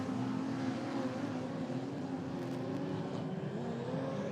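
Midget race cars at Ruapuna Speedway roar together in a continuous, moderately distant engine drone, pitches rising and falling as they race through the corners.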